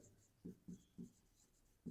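Math is written by hand on paper, with four short, distinct pen strokes scratching in a loose rhythm, close and quiet in a still room.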